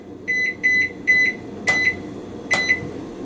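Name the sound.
kitchen timer beeping while being set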